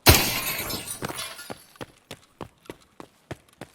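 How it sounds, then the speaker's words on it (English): A gunshot shatters glass in Escape from Tarkov on the Shoreline resort map: a loud burst of breaking glass, followed by a scatter of about ten sharp shard clinks and tinkles that fade and space out as the pieces settle. "I'm gonna shoot the glass here."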